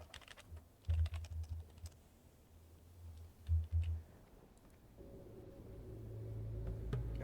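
Computer keyboard keys pressed while playing Turtle WoW, a World of Warcraft game, with short bursts of clattering taps separated by pauses and a low background hum that swells near the end.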